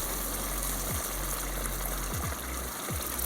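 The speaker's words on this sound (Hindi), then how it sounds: "अब इसमें मैं पानी डाल रहा हूँ" Water pours steadily from a glass into a pot of chicken, a continuous loud gushing splash with a few low gurgles and bumps as the stream lands, close by and without talk.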